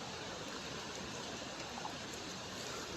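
Floodwaters of Trail Creek in Athens, Georgia, swollen by Hurricane Helene, rush in a steady broadband roar that stays close and loud throughout, with no voices over it.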